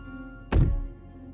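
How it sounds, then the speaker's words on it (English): A single heavy thump from footsteps on stairs in the video game Slay the Princess, one deep booming hit that fades over a fraction of a second over a faint sustained musical drone. "Movement on the stairs."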